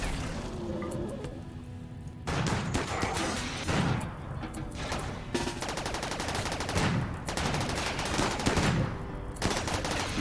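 Turrets firing in RimWorld, rapid bursts of automatic gunfire with sharp repeated reports and short pauses, loud and continuous throughout.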